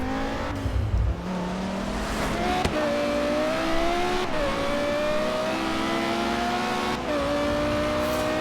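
A car engine revs and climbs through gears in a Forza Horizon 3 race, loud and steady, with rising whine broken by brief shift dips and faint tire squeal.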